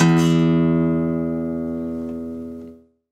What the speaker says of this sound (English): So you want to pluck your E string